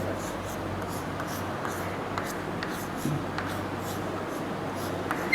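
Chalk or marker scratching across a board during a chemistry lecture on biphenyl, a steady series of short faint strokes with a low constant hum behind them and no voice over the writing.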